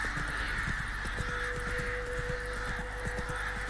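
Crows caw repeatedly in The Witcher 3 on a foggy countryside ride, harsh calls close by over steady hoofbeats and a constant ambient hum.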